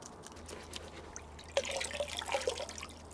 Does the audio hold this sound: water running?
yes